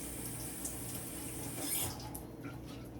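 Tap water running into a container in a home kitchen while cooking chicken and fried broccoli, a faint steady hiss and trickle that carries on evenly throughout, with no voices.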